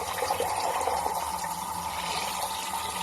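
Lukewarm tap water pouring steadily into an aquarium being set up, a continuous close splashing gush with no pauses.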